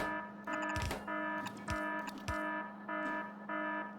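Repeating electronic alarm in the style of the 'everything okay' meme, a steady harmonic buzzing tone pulsing on and off about five times over a low hum, with a few sharp clicks and thumps mixed in.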